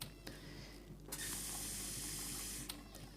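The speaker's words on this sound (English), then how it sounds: "We need to fill up with waters." A tap in a video game runs into a bucket, giving a bright splashing gush. It starts with brief spurts, then flows loudly for about a second and a half before cutting off, with no voices.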